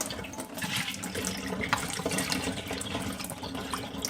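Water draining out of a PC water-cooling loop, a steady close splashing and trickling flow like a running tap, continuous and fairly quiet, with no talk.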